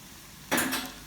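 A metal spoon knocks twice against a bowl or jar while scooping heaped teaspoons of Patak's curry paste, two quick, close clinks.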